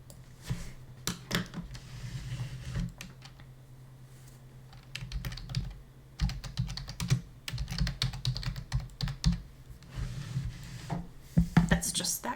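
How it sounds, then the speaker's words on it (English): Typing on a computer keyboard comes in quick, uneven bursts of key clicks separated by short pauses, close and moderately loud, with a quieter stretch partway through. "I'm going to type these"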